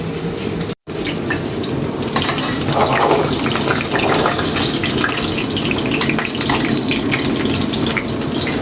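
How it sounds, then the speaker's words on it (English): Pork schnitzel frying in hot oil gives a steady, close crackling sizzle with dense fine spits. It starts with a brief dropout and then runs continuously with no talk. "So now we take our schnitzel into the oil."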